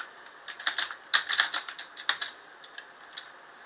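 Quick bursts of typing on a computer keyboard, clustered clicky keystrokes in short runs with brief pauses, close and clear with no talk.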